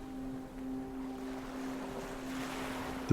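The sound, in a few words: waves slapping and rope creaking on a boat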